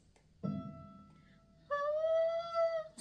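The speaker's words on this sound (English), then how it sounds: "And now let's tune the first string, which is the E or Mi." A violin's E string is bowed during tuning: a short, rough note, a pause, then a steady, clear, high sustained tone with bright overtones, fairly quiet and close, with no talking.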